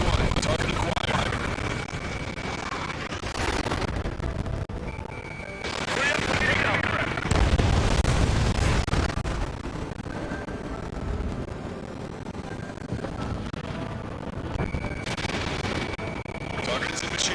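Bombing explosions in the combat flight game Ace Combat 7: heavy booming blasts and rumbling detonations in several bursts over a continuous loud roar, with game radio chatter mixed in.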